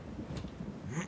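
Thunder rumbles faintly through a stormy night in the Barbie Horse Adventures game, a low rolling murmur with soft rain texture and no voices.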